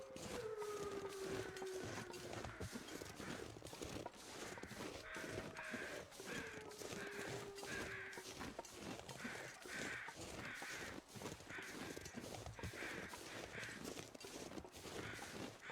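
In a snowy survival game, crows caw repeatedly in the distance, in a steady series of rough calls. They sit under constant wind and crunching footsteps, and a few drawn-out tones drift through the background.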